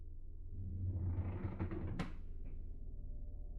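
A drawer in the horror game MADiSON slides shut with a low rumbling glide that ends in a single sharp knock, followed by a faint creak.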